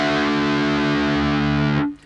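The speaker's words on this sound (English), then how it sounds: "your low E string is tuned to a D and sounds like this" Distorted electric guitar with its low E string dropped to D, a single heavy sustained note ringing evenly for nearly two seconds before being cut off abruptly, loud and alone.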